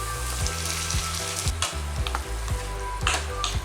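Tomatoes hit sautéing onions in a hot pan, giving a steady, close sizzle and frying crackle with repeated soft stirring scrapes throughout.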